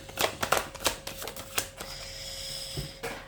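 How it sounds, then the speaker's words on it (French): Tarot cards handled during a reading, one card dropping loose from the deck, heard as a quick run of crisp, papery clicks and taps up close, then a faint hum with no voices. "Une carte qui est tombée."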